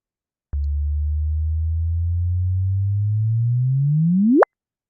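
A simulated sonification of two merging black holes: a smooth, steady low tone that holds for about four seconds and then sweeps rapidly upward into a sharp rising chirp before cutting off into silence.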